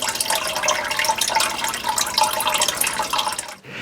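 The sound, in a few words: water flowing from newly powered well pump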